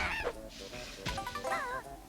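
Big autumn birds in the Click Clock Wood level of the video game Banjo-Kazooie let out several nasal, goose-like honks in quick succession over a steady game backdrop.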